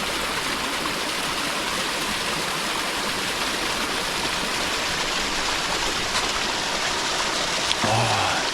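Ice-cold mountain stream water rushing steadily over rocks in a remote mountain setting, a continuous close, even wash of flowing water with no break.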